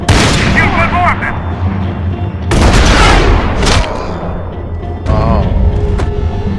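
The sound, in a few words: gunfire in the video game Max Payne 3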